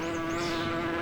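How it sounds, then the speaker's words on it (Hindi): Bees buzzing in a superhero series, a loud close buzz with a steady tonal hum and wavering higher whine, heard alone and without talking. "अरे यार, इन मधुमक्खियों का क्या करूं?"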